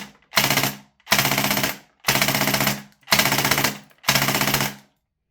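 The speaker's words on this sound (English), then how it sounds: "So let's give that a quick burst." A VFC M249 gas blowback airsoft rifle fed 0.3 gram BBs fires five short rapid bursts at about one-second intervals, loud and close, with brief silences between them.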